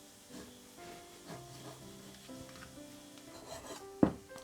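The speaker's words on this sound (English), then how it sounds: "I'm now doing a couple of slices, approximately 1/2 centimeter each slice." A knife slicing Parma ham into half-centimetre slices on a board, with soft rasping strokes repeated at an uneven rhythm, close and quiet, ending in a sharper knock of the blade.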